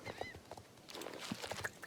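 Horse hooves clip-clop in the video game Star Stable, a short run of hoofbeats with a brief whinny-like tone near the start, moderately close over a soft game background.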